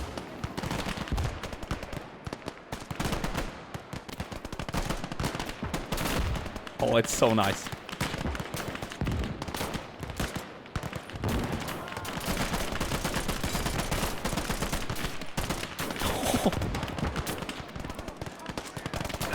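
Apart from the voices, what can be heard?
BAR rifle gunfire in video game Gates of Hell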